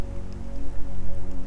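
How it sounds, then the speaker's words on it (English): Steady rain falls as a soft, continuous patter with a low rumbling wash beneath it. No voices are heard. "The rain is coming down and it's beautiful."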